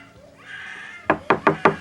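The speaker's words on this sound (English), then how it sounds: "He bangs on the bathroom door, asking Kate what to do" Four loud, sharp knocks banging on a bathroom door in quick succession, close by, after a brief murmur of background sound.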